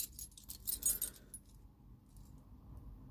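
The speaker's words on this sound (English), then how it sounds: "Got some warded, bridge warded keys here" Old bridge warded keys jangling together, a bright metallic rattle for about a second and a half, close up, then fading into quiet room tone without speech.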